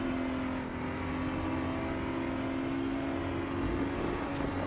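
A BMW M235i Racing Cup car's engine roars steadily near full throttle at Zandvoort in RaceRoom, a constant loud drone with little change in pitch.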